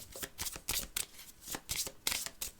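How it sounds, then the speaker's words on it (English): A deck of cards is shuffled during a solo tabletop game, with rapid crisp riffling bursts in quick succession, close and fairly quiet. "we had to shuffle the deck then"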